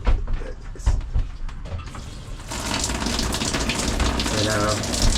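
Shower water running inside a 2024 Rockwood Minilite 2109 travel trailer, first a few sputtering bursts, then a loud steady rushing hiss, with someone talking over the opening part.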